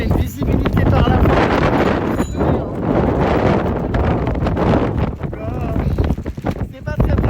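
Strong wind buffets the microphone outdoors in Amsterdam during a bike ride, a loud, continuous roar with gusty swells throughout, as people talk over it.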